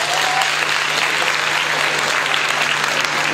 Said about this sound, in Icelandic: Klappið þau sem að æfa fótbolta.